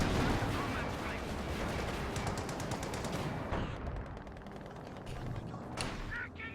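A 152mm artillery gun in Company of Heroes 2 battle, with heavy explosive blasts and rapid rattling gunfire in a dense, loud barrage that thins out into scattered sharp reports and clatter, under game noise.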